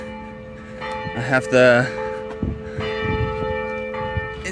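A church bell tolls in the background while someone talks over it during a car spacer install for drift stance, its steady ringing tones sitting under his voice.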